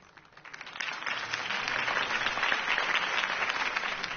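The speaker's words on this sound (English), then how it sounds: "could have heard that applause" Crowd applause follows a campaign speech for Harvey Dent in the Batman game Realm of Shadows, swelling from quiet to a steady, dense wash of clapping that carries on throughout.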